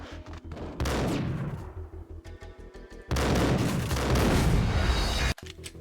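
Gunfire in the video game Max Payne erupts in two long, loud, dense volleys of rapid shots with booming impacts, separated by a brief lull and ending abruptly.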